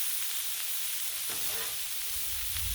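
Bacon and corn sizzle on a Blackstone griddle, a constant close frying hiss with a brief scrape of stirring partway through and no talk.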